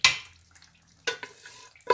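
Chunks of mutton drop into a hot pot in several clattering bursts, each followed by a brief sizzle and stirring scrape, with quieter gaps between; no one speaks.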